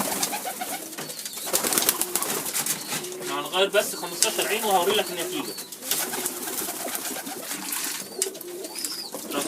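Domestic pigeons in a home pigeon loft cooing and rustling, with soft wing flaps, heard under someone talking close by.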